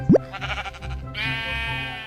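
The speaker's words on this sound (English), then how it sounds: "I found cows, pigs, and most importantly, sheep" Sheep in Minecraft give a short bleat followed by a second, longer nasal bleat, close and clear, with no one talking over them.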